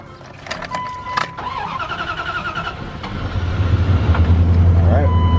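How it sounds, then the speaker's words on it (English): A truck engine cranks with a few clicks and whirs, then catches and settles into a loud, steady low idle that keeps building up close, with voices faintly present. "So go ahead and crank up the truck."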